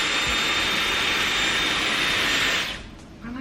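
Steady high-pitched airflow whoosh of a Dyson Airwrap hair styler running, loud and close for a few seconds before cutting off abruptly near the end.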